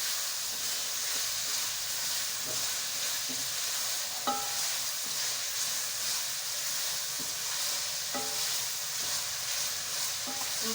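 Green chilies fry in a pan for chicken jalfrezi, giving a steady, even sizzling hiss throughout with a few faint clicks and pops, and no one speaking.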